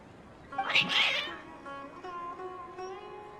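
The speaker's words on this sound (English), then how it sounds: "Your cats seem pretty worked up." Agitated cats in a fantasy video game give a loud, wavering meow followed by a softer, drawn-out whining cry against a quiet background.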